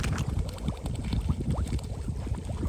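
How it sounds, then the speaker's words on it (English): An incoming tide on a Scottish Highlands shore on the Isle of Skye bubbles continuously, like a jacuzzi. Steady close fizzing and gurgling water carries on throughout with no talk. "The whole time it sounds like a jacuzzi."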